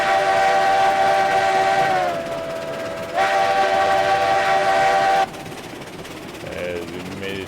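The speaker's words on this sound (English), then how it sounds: "First running with 10 cars, all empty. Still fairly light for this locomotive, obviously." A locomotive pulling 10 empty cars in the RailRoads Online video game, its whistle sounding in two long loud blasts over a rumbling run, then quieter rolling with brief fainter tones near the end.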